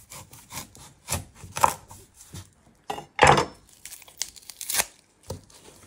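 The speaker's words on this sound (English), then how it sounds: "So next step, we're going to prep our onion. You're first going to chop your end off." A knife chops the end off an onion and preps it on a cutting board while making Thai meatballs: a series of sharp, close cuts and crisp crunches with papery rustling between them, and no voices.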